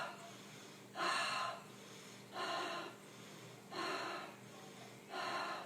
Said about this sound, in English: So just breathing in through your nose and out through your mouth